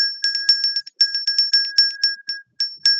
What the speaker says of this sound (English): Let's ring the bell for those children